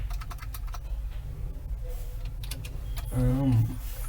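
Rapid clicking on a computer keyboard during a web development lesson, a run of sharp close taps followed by a brief mechanical whir near the end, with someone talking quietly over it.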